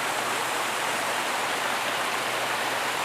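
Steady broadband rush of a waterfall fills the scene, continuous and even with no breaks, close enough to dominate everything.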